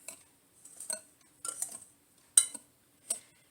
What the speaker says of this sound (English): So I'm just going to stir this up since the sugar was all on the bottom.